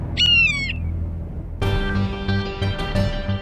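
A shrill, wavering screech from a kite, a bird of prey, is played as a television sound effect. It rings out alone at the start, and dramatic layered music with pounding low hits follows it.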